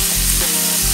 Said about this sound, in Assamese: নহৰু আৰু পিঁয়াজখিনি তেলত ভাজি ল'ম অকণমান।